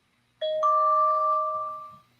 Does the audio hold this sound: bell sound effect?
yes